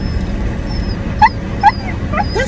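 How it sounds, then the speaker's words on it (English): A little terrier whimpers in two short, high, rising yelps, close and fairly loud over a steady low background rumble, followed by a few softer fading whines. "It's just the dog is like a little tiny terrier."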